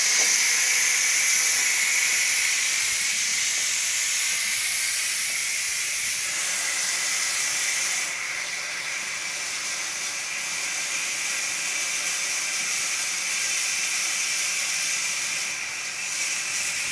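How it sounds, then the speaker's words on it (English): A Ninja Foodi pressure cooker vents steam in a quick release after cooking beef stew, a loud continuous hiss that holds steady for many seconds, easing slightly partway through, with no talk. "So we'll do a quick release right now and switch this over to slow cook."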